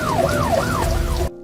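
An ambulance siren wails in loud, swooping rises and falls, close and continuous over traffic rumble before cutting off abruptly.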